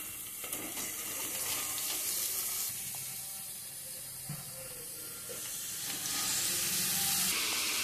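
Fresh washed spinach (palak) tipped into a hot kadai, giving a steady sizzle and watery frying hiss that swells in the last couple of seconds, with no talk over it.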